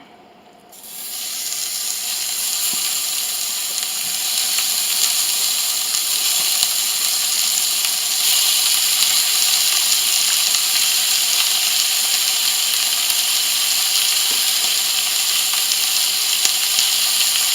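Beef stew meat sears in smoking-hot olive oil in a skillet, a loud, steady sizzling hiss that bursts in suddenly and carries on unbroken with faint crackles throughout.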